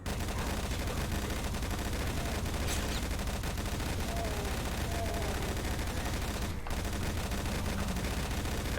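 A heavy machine gun fires in Doom, a dense, continuous roar of rapid shots at constant high loudness, broken only by a momentary gap.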